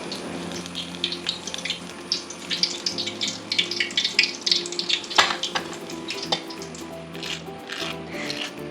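Spring rolls deep-frying in oil over medium heat give a steady, close hissing sizzle peppered with small crackles and bubbling pops that rise and fall without a break.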